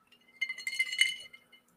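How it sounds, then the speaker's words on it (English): Ice cubes clinking against the sides of a glass of Irish whiskey, a quiet cluster of bright, rapid chinks and jingles that swell for about a second, then trail off into a couple of faint taps. "Man, I can hear those ice cubes just a jingling."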